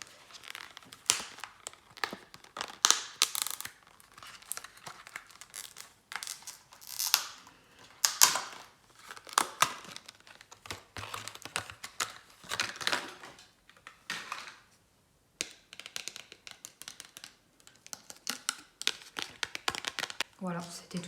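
A plastic package of false eyelashes from a bazaar is opened up close, giving a long stretch of crinkling, crackling plastic with tearing and handling rustles in uneven bursts.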